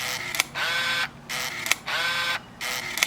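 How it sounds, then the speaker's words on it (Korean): Continuous-mode shutter bursts from a Ricoh SR 10D film camera: two long mechanical whirring runs of rapid clicks with brief pauses between them, heard up close and loud, with no voices. "셔터가 계속 찍히죠."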